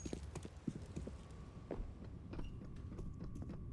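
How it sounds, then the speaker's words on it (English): Heavy player footsteps stomping across the map in a Counter-Strike match on Overpass, a quick uneven run of thudding steps, moderately close, with no talk over them. "Boomich is stomping like a rhinoceros"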